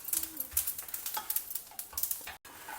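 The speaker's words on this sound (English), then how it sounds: "allow it to continue roasting in the pan till the curry leaves are crisp and also the sesame seeds" Curry leaves and sesame seeds roast in a pan as the seeds pop, giving dense, crackly sizzling with small irregular pops and faint stirring scrapes, steady and close.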